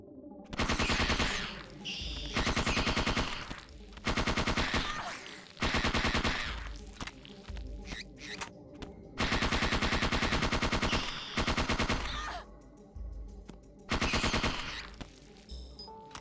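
Rapid bursts of automatic gunfire from the video game Parasite Eve II come in loud, repeated volleys with brief pauses between them, close and dominant, with no voices over them.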